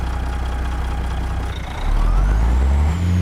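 Heavy FLX 359 truck engine in American Truck Simulator cruising in a high gear, a steady loud low diesel drone that swells and deepens partway through, with a faint rising whine above it.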